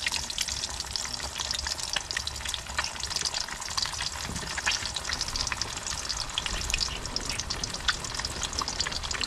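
Patola slices fry in a pan, giving a continuous crackling sizzle with bright spattering pops that rise and fall over several seconds, close and fairly loud, with no voices.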